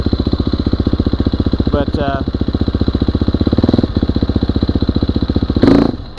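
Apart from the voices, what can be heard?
motorcycle engine blipping then stalling when cold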